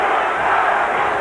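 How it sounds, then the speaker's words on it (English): A packed boxing crowd at a Larry Holmes heavyweight title fight chants his name, a dense, loud roar of many voices sustained throughout. "And again, the chant"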